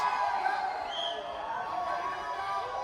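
A wrestling crowd in Prescott, Arkansas cheers and shouts in a steady, dense roar at moderate distance, with voices mixed in throughout.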